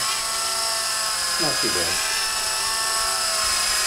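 A small collective-pitch RC helicopter, a Novus 125 CP, flies with a steady high-pitched motor and rotor whine throughout, close and constant, while someone speaks briefly over it.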